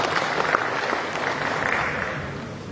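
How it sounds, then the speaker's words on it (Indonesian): Applause from a seated audience at a government meeting in Papua Barat, a steady, fairly loud wash of many hands clapping that tapers off gradually. "mari kita berikan aplaus"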